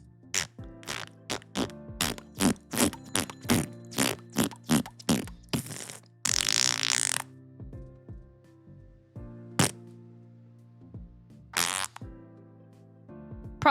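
A person imitating fart sounds with the mouth, a rapid series of short buzzy blurts followed by a longer sputtering burst and a few scattered single pops, close and loud with pauses between.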